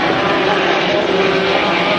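A 2.5-litre hydroplane racing boat roars at full throttle during a heat at Valleyfield, a loud, steady, buzzing engine drone that holds without a break.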